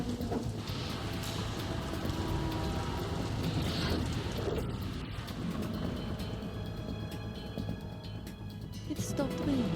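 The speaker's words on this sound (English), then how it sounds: "It stopped raining." Rain and thunder in the Metal Gear Solid 2 video game, with steady rain on a surface and low rumbling thunder running throughout while game voices talk over it.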